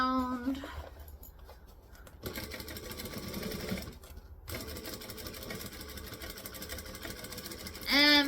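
A sewing machine stitches a large Vixen bag, running in several bursts of fast mechanical whirring separated by short pauses, with a brief tonal beep or squeak at the start and at the end.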